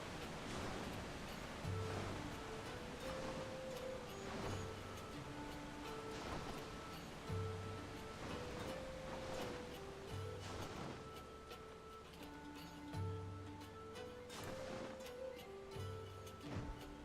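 Waterfall in the video game Final Fantasy XIV, a steady rushing roar of falling water with game music tones and periodic thumps layered over it.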